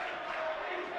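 A college men's basketball bench, Southern Maine against UMass Boston, cheering during a game as a steady crowd roar rises in the gym, with no distinct words.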